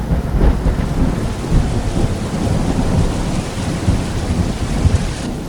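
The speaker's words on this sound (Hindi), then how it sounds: "बारिश अब तेज हो चुकी थी।" Heavy rain pours steadily at night on a forest-lined mountain road at Kashedi Ghat, India, with deep rolling thunder rumbling beneath the dense downpour and no voices.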